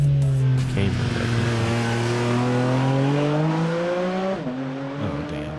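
Sports cars, a Lamborghini Huracan and a Porsche, drive with a loud engine note whose pitch climbs steadily under acceleration, dips briefly at a gear change, then keeps rising close by.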